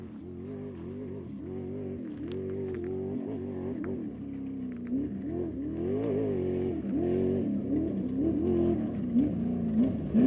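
A Jeep Grand Cherokee drives close behind, its engine a steady, fairly loud drone whose pitch rises and falls as it speeds up and eases off, with no one talking.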